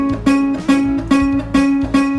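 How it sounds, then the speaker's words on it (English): A ukulele note fretted away from the metal fret bar gives a harsh, buzzy tone, plucked five times in a steady rhythm, close and clear with no talking. "if we don't place our fingers next to the fret, that is this metal bar, it can sound kind of dirty"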